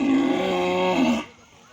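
A buffalo lows on a Vietnamese farm, a single sustained low, moaning call of about a second, close and loud, cutting off abruptly into quiet background.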